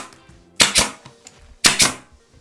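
Two sharp, loud bursts from a pneumatic nail gun driving nails into a plywood box with 45-degree mitered edges, about a second apart, each a quick double crack with quiet workshop background in between.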